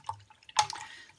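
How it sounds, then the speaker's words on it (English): A paintbrush being swished and washed out in a water container of brush wash for watercolour painting, a few soft close drips and splashes with one brighter slosh in the middle, quiet and alone. "Then I'm giving the brush a good wash out in the brush wash"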